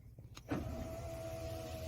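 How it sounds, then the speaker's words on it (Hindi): Electric power window glass on a HOWO Sinotruk NX430 truck cab glides with a steady motor whine after a click, running continuously inside the cab with no talk. "तो आपके विंडो के जो गिलास हैं वो ऊपर हो जाएंगे कंप्लीटली"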